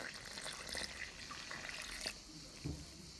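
Water poured together with baker's yeast for bread dough, a short faint trickle and splash at close range, quiet and brief with a small clink near the end.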